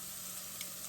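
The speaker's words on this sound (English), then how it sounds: "I added the onions into a hot pan with a couple teaspoons" Onions hitting a hot pan with a couple teaspoons of neutral avocado oil give a steady, soft sizzle, quiet and continuous with no talking over it.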